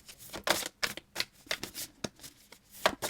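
A deck of tarot cards being cut and shuffled by hand, a run of soft, quick riffling bursts in an uneven rhythm with short gaps between them, close and quiet, with no talk.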